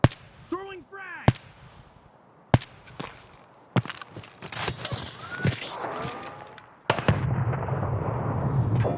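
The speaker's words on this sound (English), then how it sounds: "Throwing frag!" Frag grenade in the shooter game Escape From Tarkov: several sharp separate bangs with short tonal ringing between them, then a sustained louder burst of noise near the end.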